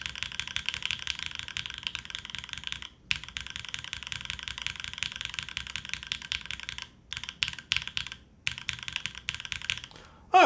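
Continuous rapid typing on a top-mount Spectacle80 mechanical keyboard with an aluminium plate and fruit smoothie switches, a dense close-up patter of keystrokes broken by a few brief pauses, with no talking.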